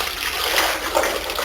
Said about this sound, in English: You take a bowl of water and